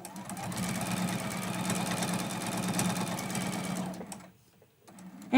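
Sewing machine running steadily as it stitches a quilted mug rug, a continuous loud mechanical hum for about four seconds, then stopping briefly before a new sound starts.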